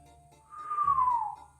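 A character whistles under his breath in a video game, one soft rising-then-falling tone lasting under a second over a faint low hum, nearby with no talking.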